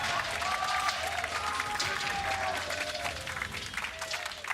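A large crowd applauds and cheers loudly throughout at a 2019 World Championship esports match of Damwon Gaming against Flamengo, a dense steady roar with whistles.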